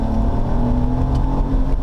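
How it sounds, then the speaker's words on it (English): A BMW 3 Series with the last naturally aspirated inline six-cylinder engine revs during a manual downshift, a loud steady engine drone heard close up from inside the car with no talking. "This is actually the last of BMW's naturally aspirated inline 6-cylinder engines"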